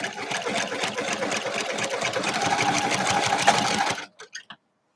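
A sewing machine stitching a quilt runs fast and loud for about four seconds, then cuts out with a few quick mechanical clunks.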